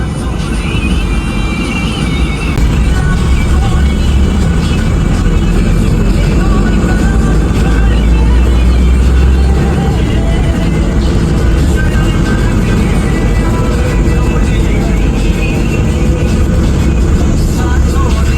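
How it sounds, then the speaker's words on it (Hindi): Road traffic heard from inside a bus leaving Saluni on the Dandi to Sanghni route, a loud, constant engine and road rumble that fills the whole stretch with no talk. "सलूनी से बाहर निकलते ही काफी ट्रैफिक देखने को मिल रहा है"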